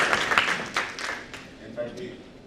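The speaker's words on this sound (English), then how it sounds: "In fact, the claps are going beyond what I expected them to be." An audience at a supply chain conference applauds, a burst of clapping that is strongest at the start and gradually thins out, with voices mixed in.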